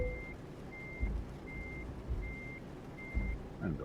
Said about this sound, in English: Let's reverse back here to this trailer.